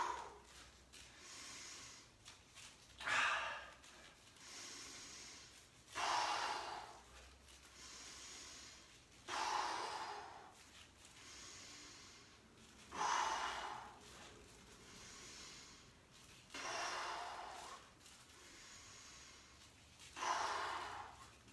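Heavy breathing during a home workout, strong exhales bursting out roughly every three to four seconds, close and fairly loud, with quiet pauses between breaths.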